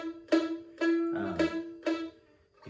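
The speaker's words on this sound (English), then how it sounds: "if you don't press down hard enough on the frets, you'll get a real rattly sound like this." Five or six plucked mandolin notes, one at a time, each with a buzzy, rattling edge where the string, not pressed down hard enough, catches the fret. Close and fairly quiet, no voices.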